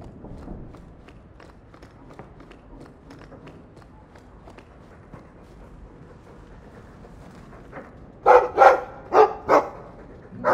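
In the video game Dragon Age 2, a dog barks in a loud, quick burst of four or five barks near the end, after quiet footsteps and faint ambient noise.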